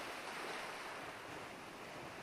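Calming ocean waves wash steadily against the shore in a continuous, broad hiss of surf with no distinct breaks, loud and enveloping.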